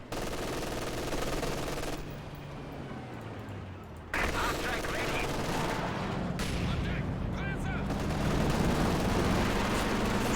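Landmattress rocket artillery in Company of Heroes 2 fires in a dense rolling barrage of bursts and blasts, loud and sustained with brief gaps, while someone talks over it.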